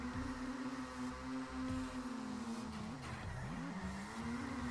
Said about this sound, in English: nice long continuous drift here